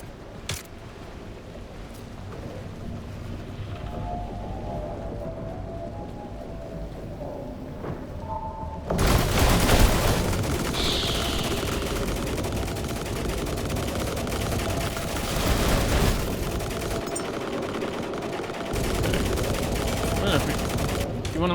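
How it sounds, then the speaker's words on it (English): Gunfire amid stormy weather in a survival game, a few scattered shots early, then a loud sustained burst of rapid firing with rumbling noise that continues steadily to the end. "stop shooting my barrels"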